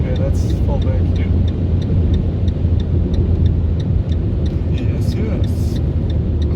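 A Fiat Punto 1.3 Multijet diesel with 85 horsepower, heard from inside while accelerating on the autobahn: a steady, loud drone of engine and road noise throughout, with faint regular ticking and brief voices in the cabin.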